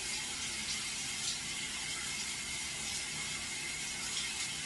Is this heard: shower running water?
yes